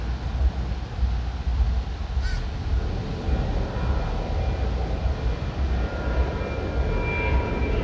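A crow gives a brief caw or two against a steady outdoor rumble of traffic or aircraft noise, the call faint and short within the continuous background.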